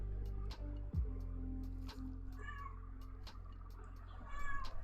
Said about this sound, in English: Oh, there's my cat.